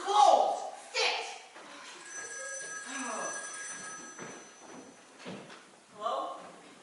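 A telephone rings in a home, a bell-like trill sounding briefly under ongoing dialogue and movement noises.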